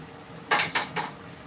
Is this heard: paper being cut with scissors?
no